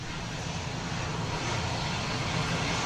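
An A-10 aircraft engine gives a steady, loud, broad roaring whine that holds without pause throughout.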